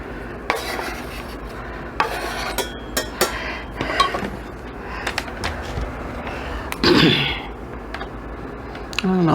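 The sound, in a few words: thinly sliced onions added to a saucepan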